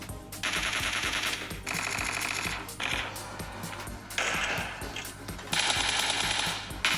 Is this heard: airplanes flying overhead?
no